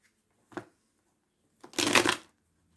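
Tarot cards being shuffled to draw one more, a short riffle followed about a second later by a longer, louder burst of cards, close up with no talking.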